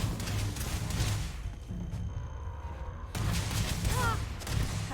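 Bursts of EM weapon fire in the Starfield video game, loud dense crackling volleys with a brief lull in the middle before the shooting resumes, with game chatter and effects mixed in.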